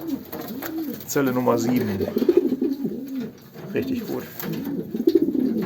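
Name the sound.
pigeons cooing in their loft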